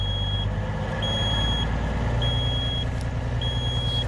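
Reversing beeps from a Class 1 truck backing up repeat in regular high-pitched pulses over the loud, steady rumble of the idling diesel engine close by.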